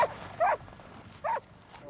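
Young sled dogs bark in three short, sharp yips spaced about a second apart, moderately close against a faint background.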